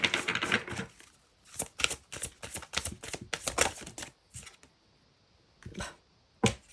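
Oracle angel-message cards are shuffled and drawn by hand, producing irregular crisp, snappy bursts of riffling close up, separated by short pauses, with no voices.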